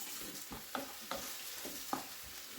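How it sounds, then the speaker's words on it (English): Portabella mushrooms sizzle on a grill pan, a steady close hiss of frying broken by a few soft scraping stirs at an uneven pace, with no voices. "So we got the mushrooms on the grill going."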